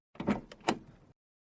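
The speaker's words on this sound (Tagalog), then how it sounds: "Bukas ko ang pinto." A single short mechanical clunk and slide of a door opening, fairly quiet and close, lasting about a second with no talking.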